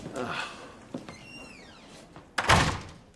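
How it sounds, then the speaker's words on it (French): A door shuts in an office with a solid thunk after a few faint scrapes and a short squeaky creak, while a voice speaks briefly just before it. "Fermez la porte."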